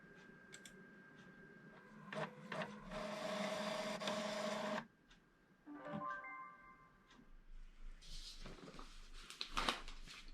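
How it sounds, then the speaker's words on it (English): A home printer printing cider bottle labels, with mechanical whirring and a long steady feed run, then clicks, beeps and paper-handling clatter, close and moderately loud, with no talking. "I'm just going to print this out."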